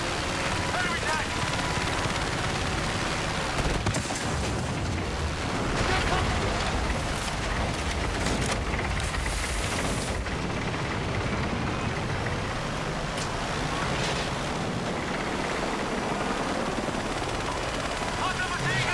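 Sustained machine-gun fire in a combat video game, loud and unbroken for the whole stretch, with explosions and rumbling battle noise mixed in and voices shouting over it.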